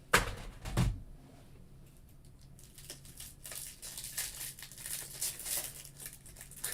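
Foil trading card packs of 2020 Onyx Nimbus Baseball being torn open: a sharp crinkle and rip up close at the start, followed by quieter rustling and shuffling of cards and wrappers.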